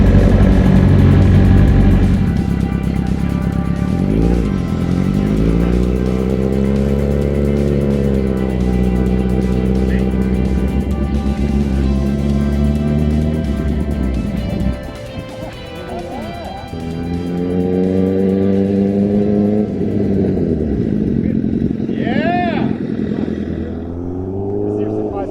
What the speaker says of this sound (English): He's on an H2. So that's the fastest production bike ever made.